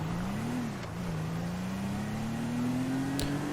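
Car driven in Grand Theft Auto V, a steady engine drone that rises slowly in pitch as the vehicle gains speed, with a couple of faint clicks on top.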